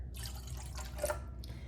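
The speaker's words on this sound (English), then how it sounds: "now to my eggs, I'm going to add my 3/4 cup of water" Three-quarters of a cup of water is poured into eggs for a vanilla cake batter, a short, faint, close trickle and splash.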